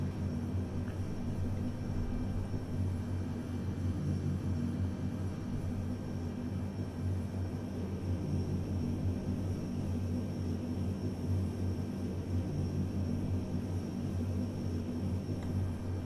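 Steady, droning rumble of the Airbus A400M military transport's engines in Microsoft Flight Simulator 2020, a continuous broadband roar with low tonal hum that holds even and loud throughout, with no talk over it.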